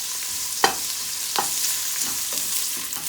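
Onions sizzle in hot coconut oil with a steady bright hiss, while a few stirring scrapes of a utensil cut through close up and no one speaks.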